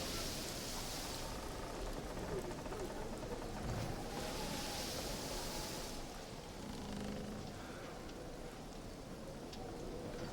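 Steady broadband wash of ocean surf and rushing water, continuous and fairly loud throughout, with gentle swells in intensity, playing as ambience during a tabletop role-playing session.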